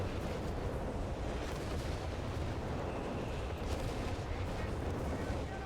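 Mortar fire and explosions in a World War II strategy video game roll on as a dense, steady rumble of distant booms and gunfire, a constant low battlefield roar without clear breaks.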